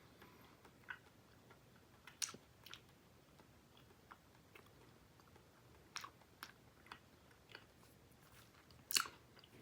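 Big League Chew bubble gum chewed close up, soft sticky clicks and small crunchy bites scattered irregularly over a quiet background, with a few louder smacks.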